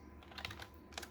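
Quick computer keyboard keystrokes, a few soft clicks in a short burst ending with a press of the Enter key, close and quiet, with no voices.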